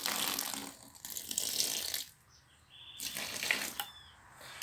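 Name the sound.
pouring a little water into cement in a bucket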